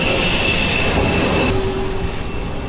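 A small private passenger plane's engine roars steadily at a private airport, a loud, continuous broadband drone with faint high whine, close by and without speech.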